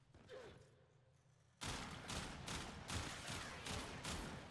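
The Kuva Kraken, a burst-fire gun in Warframe, blasting out a loud sustained string of evenly spaced, punchy shots after a quieter moment of ambient game noise and mechanical clatter.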